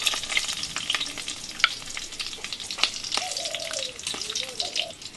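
Bay leaf, cinnamon, cardamom and chili hit hot cumin in a home kitchen pan, giving a steady close crackling sizzle with scattered sharp pops and clinks throughout.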